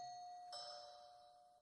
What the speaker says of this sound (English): It's the doorbell.